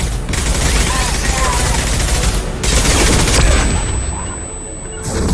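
Sci-fi gunfire and booming weapon blasts in the video game Mass Effect 2, a loud, continuous barrage of shots and explosions with a voice calling out over the battle.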